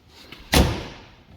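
A single sharp slam as a door shuts on a Honda Pioneer 1000-5 side-by-side utility vehicle, close and solid, with a short fading thud after.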